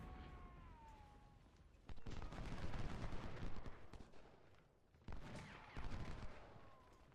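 Scattered gunfire from enemy skirmishers in Ultimate General: Civil War, a light peppering of distant shots and rumbling volleys over a dense battle din, with no talking.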